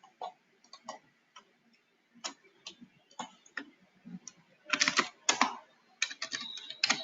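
Bursts of typing on a computer keyboard, with quick, uneven key clicks that start sparse and then grow into dense, louder flurries near the mic.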